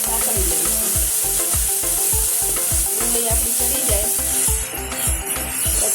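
Onions fry with turmeric and red chili in a pan, a constant loud sizzle overlaid by a brisk, regular scrape-and-knock of a spoon stirring, close up and without speech.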